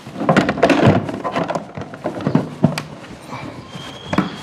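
An open-face helmet is handled and pushed into a scooter's under-seat storage with a string of dull knocks, bumps and scrapes. One sharper thud stands out, and the sounds are close and irregular.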